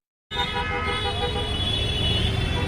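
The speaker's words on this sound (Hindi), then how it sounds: "ओहो ट्रैफिक ही ट्रैफिक चल रहा है भाई, पूरा ट्रैफिक चल रहा है यहाँ तो" Dense street traffic at a Delhi protest site, a steady loud wash of engines with car horns tooting throughout, starting abruptly and continuing without a break.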